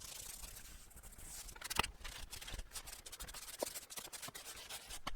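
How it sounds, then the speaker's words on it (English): A broom sweeps sand across a lawn to level low spots, making a steady, close scratchy brushing with repeated strokes and a few sharper scrapes, no voices. "use the broom to smooth it out"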